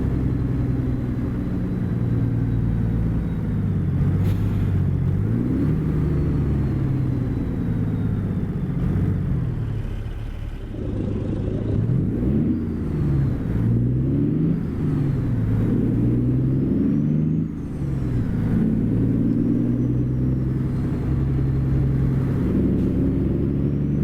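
A truck engine in American Truck Simulator rumbles steadily through a small American town, a loud continuous low drone with gentle rises and dips as the rig shifts and accelerates, with no talking.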